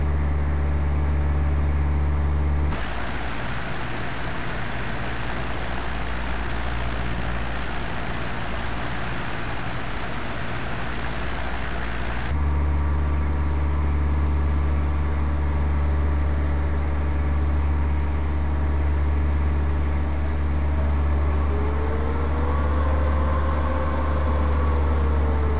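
A small airplane flying parallel to runway 24, its engine a steady, loud droning hum throughout, with a rougher, stronger rush for about ten seconds near the start.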